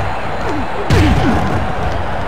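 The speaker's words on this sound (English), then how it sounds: "Body slammed onto the wooden surface." A wrestler is body slammed onto a wooden surface in an MDickie wrestling video game, giving one loud, sudden slam with a short booming thud and brief rattle, close and alone.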